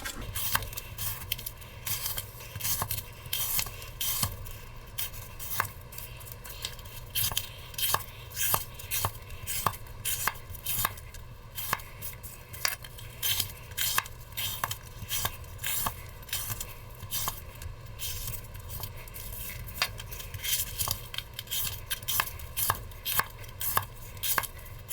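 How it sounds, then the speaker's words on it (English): A Forged in Fire branded kitchen knife slices through cardboard strips in a long run of quick, crisp cuts and scraping strokes, close and fairly loud, with no talking. "the cardboard strips are not big enough to catch the entire knife blade on"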